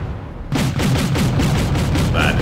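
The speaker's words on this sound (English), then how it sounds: "Mi-20 finally starts to shoot the missiles with this batch of the Cobra. And then Mi-24B starts to shoot back too with its nose cannon." Mi-24 helicopter nose cannon and missiles firing in the Wargame European Escalation airfield battle: a loud, dense barrage of rapid, rhythmic bursts that kicks in suddenly and keeps pounding.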